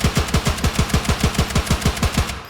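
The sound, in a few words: DMR rifle firing in video game Incursion Red River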